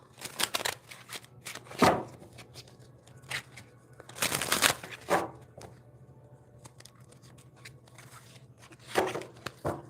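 Tarot or oracle cards shuffled by hand in several bursts of riffling and crisp slaps, close and fairly quiet, separated by short pauses, with no talking over them.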